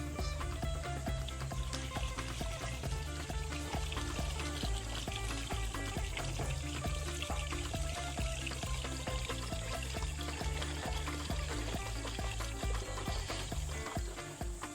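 Kava liquid pouring and trickling through a washed cloth bag during a second filtering in Vanuatu, a steady continuous splashing dribble heard up close for the whole stretch.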